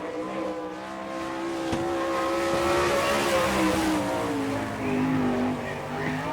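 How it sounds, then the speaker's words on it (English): Dirt-track race car at an All Star Circuit of Champions Winternationals sprint car event in Gibsonton, Florida, taking the green flag: a loud, steady engine roar that climbs in pitch as the car accelerates, holding strong and close throughout. "Taking a green flag, car number 92 from Bloomington, Indiana"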